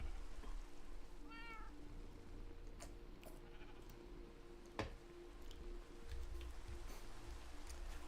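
A single short cat meow from Minecraft rises early, set against a steady hum of in-game ambience with a faint click or two afterward.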